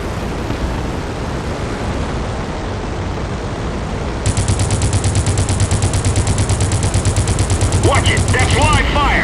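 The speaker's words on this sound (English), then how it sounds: "Watch it! That's live fire!" Aircraft machine guns fire in an air-combat game set in the Crimson Skies world, a loud, rapid, continuous stream of shots that starts abruptly partway through and runs several seconds over engine drone, with brief voice-like sounds near the end.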